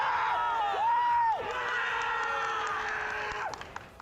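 Crowd at the 2024 Pokémon World Championships roaring and cheering at a match, a loud sustained swell of many voices with rising and falling shouts that fades toward the end.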